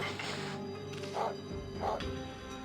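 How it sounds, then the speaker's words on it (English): A stylized barking sound effect for the White Wolf in the video game Okami, two short mid-pitched barks about two-thirds of a second apart over a busy game music background. "What a ferocious bark."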